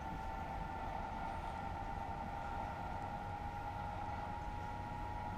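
A high-speed train in Train Simulator Classic accelerates toward a 300 km/h zone, a steady loud cab rumble with a sustained whining tone and continuous rolling noise.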